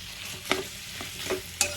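Potatoes sautéed in a pan, stirred with four quick scraping strokes over a low, steady sizzle.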